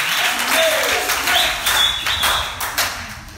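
A congregation applauds and acclaims the King of Kings during a French-language church service, with sustained clapping and scattered cheers filling the room under raised voices.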